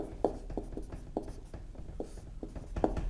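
Pen or chalk strokes writing notes during a Hindi-language class 11 chemistry lecture on atomic structure, a series of short, distinct scratching taps at an uneven pace, close and fairly quiet, with no talking.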